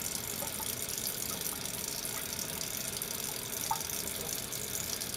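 Water poured through filter paper while being rinsed with RO water during a lab filtration, a steady continuous trickle and splash that runs unbroken at moderate level with no talk.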